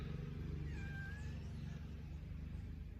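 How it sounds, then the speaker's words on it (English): A tortoiseshell cat gives one short, faint meow over a constant low hum of road traffic beyond a bamboo hedge. "That's my tortoiseshell cat meowing there."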